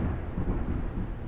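Thunder rolls outside during a rainy thunderstorm, a loud low rumble blended with steady rain noise, brief and continuous without voices.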